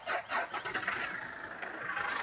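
A car engine cranking and catching after a jump start from a portable unit, a few rough turning bursts settling into a steady close idle, with no talking over it.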